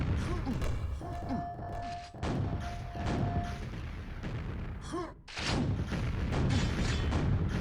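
Rocket explosions in a QuakeWorld duel: several heavy booming thuds in quick succession, with a short tonal hum between them and a brief gap before the blasts resume.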